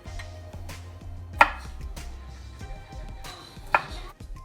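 A knife slices garlic cloves on a board while ingredients are prepped for a Ghanaian egg and tomato stew, giving soft steady cuts with two sharper knocks, quiet and close with no talking.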